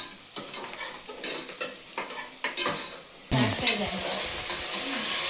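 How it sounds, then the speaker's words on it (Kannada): Mutton sizzles in a pan with garlic, onion and turmeric, a steady close frying hiss broken by scrapes and clinks of a spoon stirring, which grows louder partway through. "ಮಟನ್ ಬೇಯ್ತಾ ಇದೆ, ನಿಧಾನಕ್ಕೆ ಬೇಯ್ತಾ ಇದೆ."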